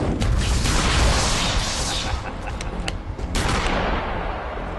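A shotgun in the video game Eternal Darkness fires loud booming blasts over a roaring, noisy game scene, with several sharp pops and bursts scattered across the stretch.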